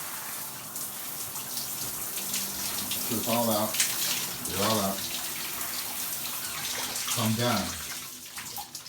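Shower water runs steadily in a home bathroom while hair is rinsed and washed, a constant hiss of spray with a person talking briefly over it at intervals.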